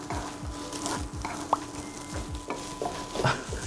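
Salted egg fried rice is tossed in a pan in quick repeated scrapes and sizzles, a steady rhythmic stir-fry rattle with a sharp clink or two, close and moderately loud, with no voices.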